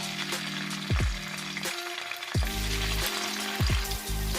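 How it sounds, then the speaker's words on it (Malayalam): Garlic frying in hot sesame oil, a steady close sizzle with a few soft stirring knocks and scrapes in the pan, no one speaking. "നമ്മുടെ എണ്ണ ചൂടായി വരുന്നുണ്ട്. ഞാനിവിടെ നല്ലെണ്ണയാട്ടോ ഒഴിച്ചിരിക്കുന്നേ. അതിലേക്ക് നമുക്ക് ഈ വെളുത്തുള്ളി കുറച്ചിട്ട് കൊടുക്കാം."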